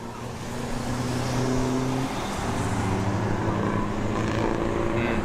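A race truck circles the track during a live 2025 racing session, its engine a steady, loud drone with a low harmonic hum that runs throughout without a break.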